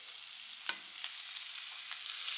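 Bell pepper strips frying in a pan over medium-high heat, a steady close sizzle with faint crackles and a few soft stirring scrapes, alone without voices.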